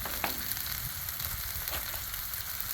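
Two eggs sizzle on a flat griddle, a steady close crackle and hiss with occasional sharper pops, no voices.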